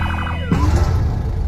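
An ambulance siren rings out in a zombie film, its wailing tone sweeping up and down before a loud, rumbling burst cuts in and carries on to the end.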